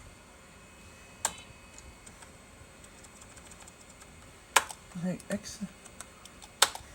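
Several isolated key clicks on a 1987 Acer 500+ XT computer keyboard, sparse and irregular, with a brief burst of taps near the end, over quiet room hiss.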